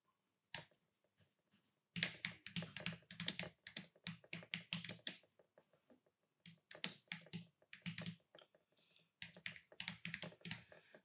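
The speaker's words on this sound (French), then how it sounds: "je peux taper le titre du chapitre" Bursts of quick, crisp keystrokes on a computer keyboard while a chapter title is typed in a layout program, close and clear with brief pauses between runs.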